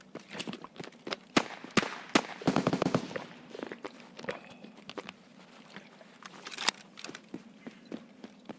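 Distant gunfire in Escape from Tarkov: scattered sharp cracks with a tighter cluster of rapid shots around the middle, irregular and fairly faint, with no voices.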